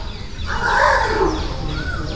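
Hungry baby elephants at feeding time in a Sri Lanka rescue centre give a loud, drawn-out trumpeting call that rises and fades over about a second, heard amid outdoor background noise.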